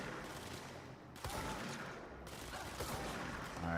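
Gunshots in a video game, several sharp reports in a short sequence over a busy game mix, close and fairly loud.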